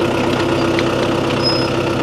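A farm tractor with a folded mower behind it idles steadily while a gear is selected, a continuous close mid-to-low engine rumble with a faint tonal whine and no voices.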